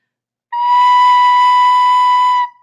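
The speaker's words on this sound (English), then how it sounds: "here's the B. Now I'm covering it all the way" A single recorder note B rings out clear and steady for about two seconds, starting and stopping cleanly with no other sound around it.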